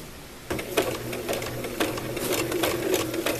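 A sewing machine runs a zigzag stitch, attaching appliqué to stretch fabric, starting after a brief pause and then whirring steadily and close up with rapid rhythmic needle clatter.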